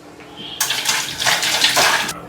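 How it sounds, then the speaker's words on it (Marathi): Water gushes from a tap as hands are washed, a close, loud splashing hiss that starts abruptly, runs for about a second and a half with shifting splatter, then stops. "बघा अगोदर हात धुवून घेतो"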